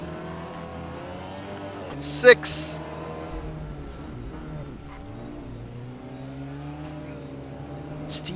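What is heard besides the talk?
TCR SEAT Leon race car engines racing in a video game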